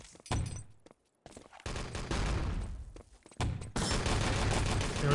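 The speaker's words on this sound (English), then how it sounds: "Yara gets off a rifle on the spawn" Rapid rifle gunfire in the online shooter Enemy Territory: dense bursts of shots and loud impacts packed together, broken by two brief silences, with game sounds continuing throughout.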